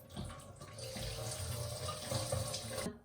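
Tap water runs steadily into a sink to rinse dried herbal ingredients for a vegetarian bak kut teh soup, a continuous close splashing stream that cuts off at the end.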